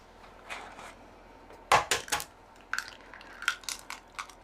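Eggs cracked one by one into a dish in a home kitchen while making a vegan/vegetarian nine-vegetable curry, heard as sharp close taps and crunches of shell with small clinks against the dish, in separate bursts with quiet gaps.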